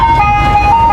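Ice cream truck chime playing steadily nearby, a bright looping melody over a low street rumble during a dog-walking training session.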